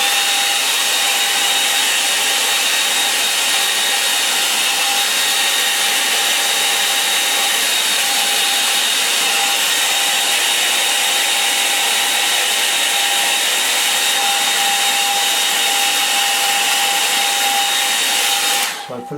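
A hair dryer blows steadily on a watercolour painting of a woodland glade, a loud continuous whining rush held for nearly twenty seconds before cutting off abruptly, with no voices.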